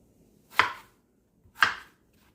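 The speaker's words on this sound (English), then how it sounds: "I want to chop it the same way I do the potatoes" Two crisp knife chops through bell pepper on a cutting board, evenly spaced about a second apart, close and fairly loud with quiet between strikes.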